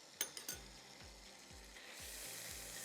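Garlic paste sizzles steadily in a hot pan after a few quick clinks of a utensil, the frying hiss swelling slightly toward the end.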